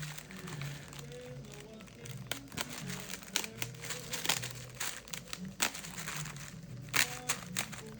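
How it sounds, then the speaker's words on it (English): Perforated paper backing peels steadily away from a sheet of vinyl for a project bag, producing a continuous crinkling and crackling with sharper snaps scattered throughout, close and fairly quiet. "Make sure you take this paper off."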